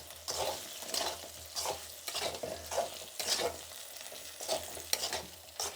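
A spoon stirs chili powder through oil in a pan while cooking bitter gourd tamarind curry, scraping in a steady rhythm over a soft sizzle, close and fairly quiet with no one talking.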